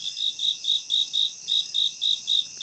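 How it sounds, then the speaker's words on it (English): Crickets chirp from a soundboard effect in a steady, even rhythm of about ten bright pulses, clear and alone with no talking. "Where's your crickets?"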